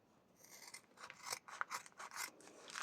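Scissors snip through a book cover in a quick series of crisp, rasping cuts, close and fairly quiet, each stroke a short scraping burst with no talking.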